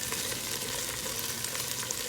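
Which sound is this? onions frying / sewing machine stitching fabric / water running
onions frying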